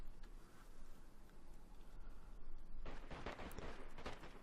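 Gunfire between players in the video game DayZ on the Namalsk map, distant and faint, with a burst of cracking shots in the second half over a dense, rumbling background.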